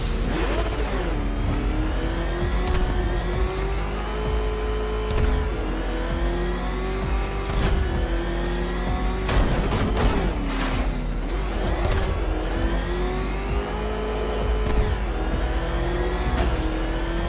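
The Batmobile in Batman: Arkham Knight revs hard while driving, a loud, close, continuous mechanical whine that climbs and dips in pitch through repeated accelerations, broken by short bursts of impact noise.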